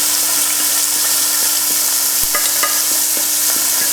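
Chopped onion and leek fry in a hot pan, a steady bright sizzle with regular clicks and taps of a utensil stirring and scraping through the vegetables.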